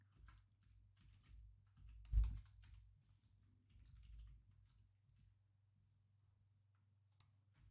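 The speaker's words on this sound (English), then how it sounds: "Type it in again." A password is typed on a computer keyboard as a scatter of faint, quiet key clicks over low room hum, with one slightly louder thump, and no talk.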